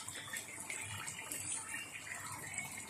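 Spiced water poured into a pot of stuffed green chillies, a steady soft liquid pour and splash running throughout at moderate, fairly quiet level, with no talk.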